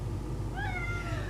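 A pet cat gives a single drawn-out meow, faint and indoors, rising and falling over a low steady hum.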